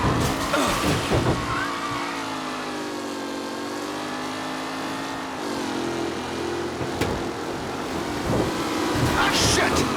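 Race cars roar and skid with tire squeal through a collision in Mafia Definitive Edition, engines droning loudly and wavering in pitch, with rough impacts at the start and end.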